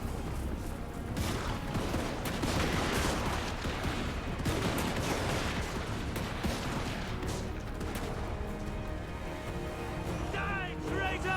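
Empire handgunner regiments in Total War: Warhammer 2 let off repeated musket volleys and scattered gunfire in a dense battle din, with shouted commands throughout and cannon-like booms at moments.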